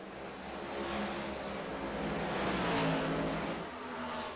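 Race cars run side by side at Iowa Speedway, a steady loud roar of engines that swells and fades slightly as they pass, with no voices over it.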